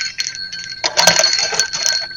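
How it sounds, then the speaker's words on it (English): A small metal chime hanging on a clothesline rings with bright, sustained tones, a few overlapping strikes up close, clear and fairly loud with no voices. "A little chime in my clothesline for the second one"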